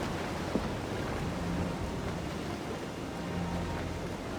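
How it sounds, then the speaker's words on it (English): Rain and wind of a storm at sea in the game Assassin's Creed Freedom Cry, a steady dense wash of noise with a low rumble underneath, continuous and fairly loud throughout with no voices. "We'll retreat through the storm!"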